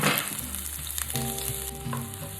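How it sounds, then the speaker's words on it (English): Onion, garlic and jalapenos land in a hot sauté pan and start sizzling, a loud close frying hiss with clatter and stirring noises, and no one talks. "take my onion, my garlic, and my jalapenos and throw it right into the saute pan."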